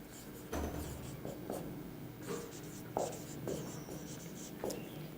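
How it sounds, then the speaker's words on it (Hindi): Pen writing on paper in a classroom, faint scratchy strokes in short bursts with brief pauses, quiet and close. "अब मैं लिख रहा हूं"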